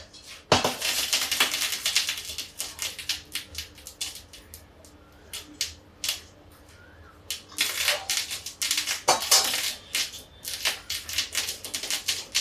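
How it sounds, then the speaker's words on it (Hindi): A kadhai (wok) is lifted off the gas stove and set aside, giving a run of sharp metallic clatters and scrapes, some in quick bursts, close and fairly loud with no talking. "कढ़ाई निकाल हटा के इधर रख देते हैं"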